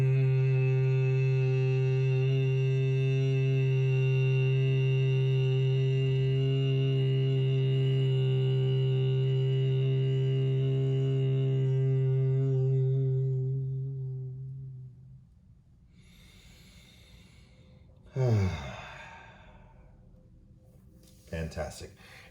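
A single voice holds a long, steady humming exhale in Bhramari bee breath for about fifteen seconds. The drone is rich and buzzing, then fades into quiet room sound, followed by brief rustles and movement.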